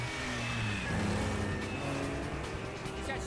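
Car chase in The Bourne Supremacy, with steady engine roar and revving and faint tire noise holding at a constant loud level for about three seconds, with no talk.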